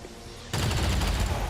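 Gunfire in the XCOM 2 strategy game, a dense burst of rapid shots that starts abruptly after a quiet moment and carries on loud and sustained to the end.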